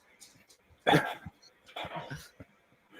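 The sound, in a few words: dog barking, Matt's dog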